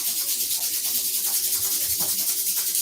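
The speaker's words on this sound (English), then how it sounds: "Rub your palms together." Palms rubbing together during a yoga session, a steady dry swishing friction that runs without break for about three seconds, close and fairly loud, with no talk.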